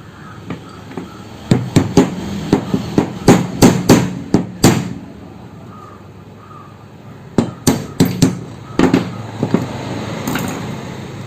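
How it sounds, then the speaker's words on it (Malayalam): Hammer blows on a screwdriver to loosen a mixer-grinder motor cover, sharp metallic taps close by in two rapid bursts separated by a quiet stretch, with no talking. "സ്ക്രൂ ഡ്രൈവർ ഉപയോഗിച്ച് ഇതുപോലെ ഇവിടെ വെച്ചിട്ട് ചുറ്റിയേക്ക് അടിച്ച് ഇളക്കാവുന്നതാണ്"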